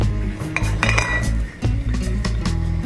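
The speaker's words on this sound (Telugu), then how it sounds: "ఇప్పుడు ఇవన్నీ కూడా కలిసేలా ఒకసారి బాగా కలుపుకోవాలి." Masala vada batter being mixed by hand in a metal bowl, with scraping, clinking and thudding strokes in an uneven rhythm, close and clear with no voices.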